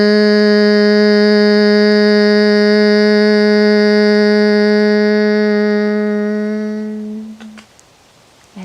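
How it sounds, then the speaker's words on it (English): A single steady hum held on one pitch during a Brahmari honeybee breath exhale in a yoga practice, loud and close, sustaining for about seven seconds before trailing off into quiet. "And as you start exhaling, start humming."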